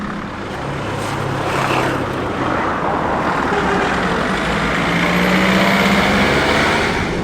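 A camper van named Jimmy drives along a road near Lima, Peru, its steady engine and road rumble heard from inside the cabin, loud and continuous, with no talking.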